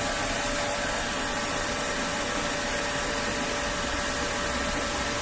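A SWEISS 2030 SKY TIG FX UltraPower welder's cooling fan runs with a steady, even whir and broadband hiss, unchanging and alone for several seconds.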